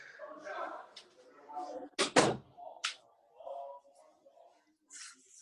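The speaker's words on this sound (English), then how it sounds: "let me close this door." A door pulled shut indoors, giving a loud, sharp double thud under nearby conversation, with someone talking before and after it.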